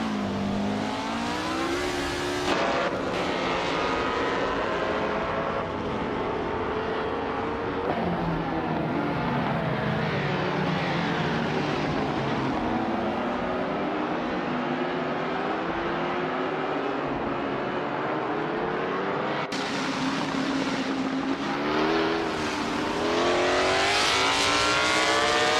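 Race car engines roar continuously in a racing video game featuring a 1954 Mercedes-Benz W196, loud and sustained with rising and falling revs as gears shift, sounding alone without talk.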